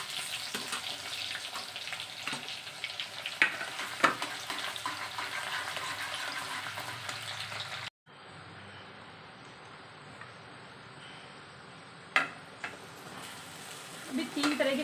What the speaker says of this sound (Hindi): और इसमें मैं अब डालूंगी जीरा फ्राई करूँगा।